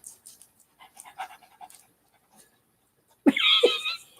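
A person imitates a panting dog. Faint rustles and clicks come first, then a loud burst of breathy, close-up panting and huffing.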